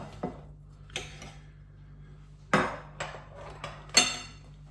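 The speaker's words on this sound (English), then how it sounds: "I'm going to cut across, get a bit of sausage." Cutlery knocking and scraping against a plate while cutting into toad in the hole sausage, sharp clinks spaced irregularly over a quiet hum, with a couple of louder clacks.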